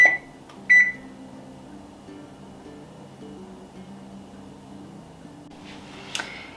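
A home oven gives a couple of short electronic beeps near the start as it is set to preheat to 450 degrees, followed by a quiet low hum, with a faint click near the end.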